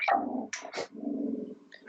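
Dogs bark several times in quick succession at close range, loud sharp yelps broken by short gaps, with no talking over them.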